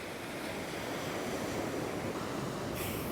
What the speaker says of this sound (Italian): il mare è selvaggio proprio